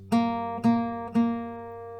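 An open G string on an acoustic guitar is plucked three times in an even rhythm, each clear close note ringing into the next and sustaining at the end, no voices.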